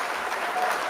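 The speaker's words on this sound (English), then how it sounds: "I don't know what happened to my applause and why that just stopped in the middle of that." A recorded applause sound effect played during a hip hop interview, a short hiss of dense crowd clapping under a second long that cuts off abruptly.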